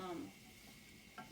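Stew sizzles softly in a pan, with a brief scrape of stirring at the start and again near the end, fairly quiet and without talk.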